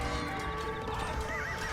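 In Age of Empires II a horse whinnies with a high, wavering cry that sits over a dense, continuous bed of hoofbeats and skirmish noise, steady in loudness with no voices.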